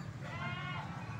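Goats bleat repeatedly at a busy livestock market in Tulungagung, a wavering nasal cry that rises over steady crowd murmur, moderately close.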